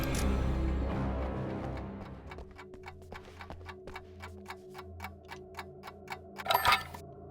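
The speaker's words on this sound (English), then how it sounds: "Ah, alarm clocks are collectible now." A collectible alarm clock in Alan Wake Remastered ticks in a crisp, even rhythm, starting after a fading low rumble and continuing steadily, with a brief louder burst near the end.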